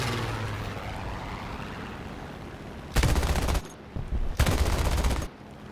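Two loud bursts of aircraft machine gun fire rattle over a steady propeller engine drone as rounds hit P-47 Thunderbolts in War Thunder, the shooter an A6M3 Zero.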